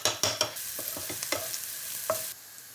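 Turmeric, paprika and chili powder stirred in a hot pan, with soft sizzling and several sharp scraping knocks of a utensil against the pan at close range, no talk.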